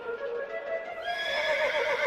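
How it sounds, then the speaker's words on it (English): A racehorse lets out a loud, drawn-out whinny, its tone wavering and rising partway through, close and clear with no talking over it. "with his racehorse, Incitatus."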